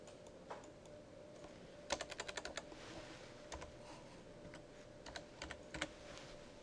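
Keystrokes on a computer keyboard as initials go into a file name, with a quick burst of rapid clicks followed by a few scattered single taps, quiet and close, with no voices.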